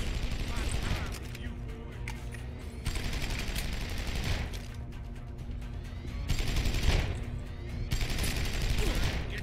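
Bursts of gunfire in Deus Ex: Human Revolution during a boss fight, several volleys of rapid shots and booms spread across the stretch, loud and close.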